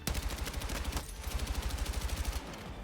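Sustained full-auto gunfire in Battlefield 6, a fast even stream of loud shots lasting over two seconds before cutting off into a short tail.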